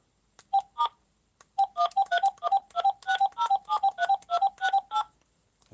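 Touch-tone telephone keypad dialing star 21 star and a phone number: a string of crisp, evenly spaced DTMF beeps after two early presses and a short pause. The beeps sound close and clean, with no voices.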